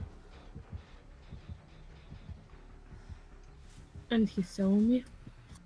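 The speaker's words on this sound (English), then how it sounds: "whatever the killer is, they have a heartbeat" The killer's heartbeat warning from Dead by Daylight thumps steadily and faintly at a regular rhythm, with someone speaking briefly near the end.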